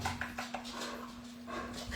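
A dog whimpers and pants near a steady low electrical hum, giving a few short yips and soft whines amid faint rustling, fairly quiet throughout.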